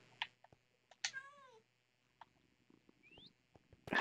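Cats in a video game give short meows, one drawn-out caterwaul and a quick upward mew among faint clicks and small game sounds, fairly quiet overall.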